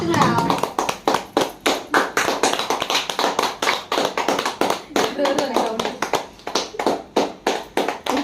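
A small crowd at a clinic's Pongal celebration claps hands in a brisk, fairly even burst of applause, close and loud, with voices talking over the clapping.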